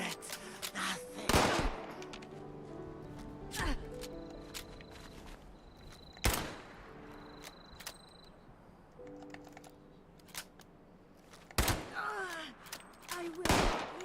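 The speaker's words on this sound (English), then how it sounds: "This gun is so slow at shooting." Slow, spaced gunshots from an Amiga video game, several sharp loud cracks a few seconds apart, set among electronic beeps and tones of the game soundtrack.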